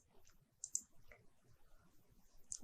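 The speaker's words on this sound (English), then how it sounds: "Click on OK." A few faint, crisp computer mouse clicks land on an OK button, two close together early and one more near the end, against a quiet room background.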